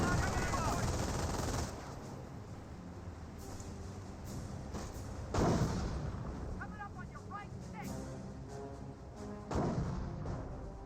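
Anti-tank gun shots and bursts of battle fire in the Company of Heroes game, sharp booms at intervals over a continuous combat din, with a commentator talking throughout.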